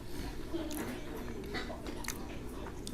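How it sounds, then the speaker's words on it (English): Close, muffled chewing and crunching of food, a continuous soft rhythm of bites near the microphone under a low background hum. "Don't mind the crunching."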